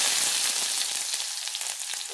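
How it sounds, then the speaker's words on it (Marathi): Onion frying in hot oil over medium heat for Maharashtrian vangyache bharit (smoky brinjal mash), a steady dense sizzle and crackle running unbroken and fairly loud throughout, with no voices. "आता टाकून घेते। याच्यामध्ये टाकायचा आहे आपल्याला कांदा"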